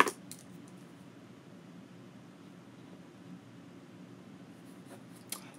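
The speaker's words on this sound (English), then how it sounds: "Give me 1 second. I'm going to write that down." A pen scratches faintly across paper while notes are written by hand, a soft continuous rustle in a quiet room with a couple of small taps.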